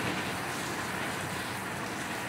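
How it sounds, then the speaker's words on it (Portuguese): Steady rain falling, a dense continuous hiss of drops that is loud and close and runs throughout without talk. "Olha que barulho, esse barulho de chuva"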